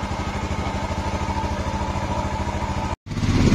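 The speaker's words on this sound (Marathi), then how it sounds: "थोड़ा गाड़ी को कोल्ड स्टार्ट दिया है" A vehicle engine idles after a cold start, running with a steady, rapid clattering pulse close by and no talk, then cutting out abruptly near the end before a rougher rumble resumes.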